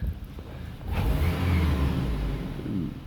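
A 2008 Chevy Colorado truck engine, just fitted with new spark plugs, idles briefly and then swells into a short, deep rev before easing back, heard up close with no talking.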